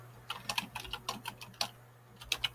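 Fingers type on a computer keyboard in quick irregular bursts of light clicking keystrokes, close and quiet, with a short pause midway and no talking.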